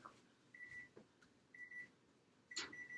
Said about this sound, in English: Now my timer is going off.